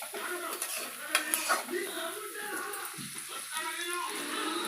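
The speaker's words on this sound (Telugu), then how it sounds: "బాగా ఫ్రై చేసుకుందామండి ఆయిల్లో" Onions fry in hot oil for a dry fish tomato curry while a spoon stirs and scrapes the pan, a steady sizzle broken by metallic clinks, close and continuous.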